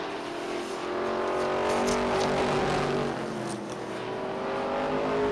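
Stock car racing at Beech Ridge Motor Speedway, an Oldsmobile Cutlass among the field, loud sustained engine roar with shifting revs as cars circle and pass, steady and unbroken throughout.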